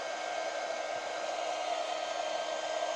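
A hair dryer blows steadily to dry junk journal pages, a constant, even whooshing hum of close airflow with a faint whine, running uninterrupted throughout without any talking.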